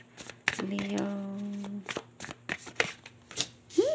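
Tarot cards shuffled in a run of quick riffling bursts close by, with someone talking between and over them and a steady hum underneath.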